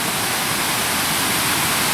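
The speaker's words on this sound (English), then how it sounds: "there's even a little water fountain or waterfall thing here that they built, which is awesome" A small water fountain or waterfall at a school pours in a steady, loud, broadband rush of falling water with no breaks.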